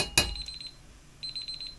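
A kitchen timer goes off with rapid, bright electronic beeps in two short bursts, set up close in a quiet kitchen and preceded by a sharp click or knock.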